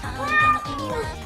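A pet cat lets out one drawn-out, rising-then-falling meow close by, clear and fairly loud over faint background noise.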